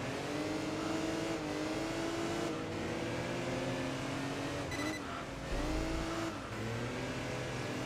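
Race car engine in the driving game Enthusia Professional Racing, held at a steady loud drone with pitch rising and dipping through gear changes and corners, continuous across the whole stretch with no talk.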